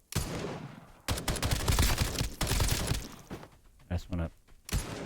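Video game gunfire in Escape From Duckov: several loud bursts of shots, each lasting about a second, separated by short pauses. Speech may be present underneath.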